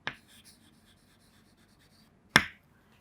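Marker or chalk strokes on a classroom board during a chemistry lesson, two short sharp scratches, one at the start and a louder one near the end, separated by near silence.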